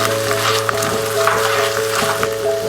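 Chickpeas frying in a pan, giving a loud, close, continuous sizzle with small crackling pops and a faint steady hum underneath.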